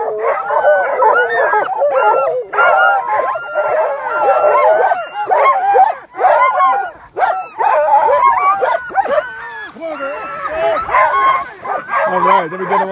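Sled dogs at the Knik 100 sled dog race in Alaska bark, yip, whine and howl excitedly in a loud, continuous chorus close by, with a person speaking over the noise.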